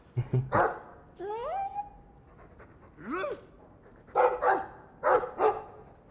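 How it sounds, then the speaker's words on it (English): Dog in the video game Dragon Age 2 barking and panting in several short bursts with whimpering, yipping tones, fairly close, between quieter gaps, with some talk mixed in. "I like the doggy."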